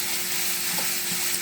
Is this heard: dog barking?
no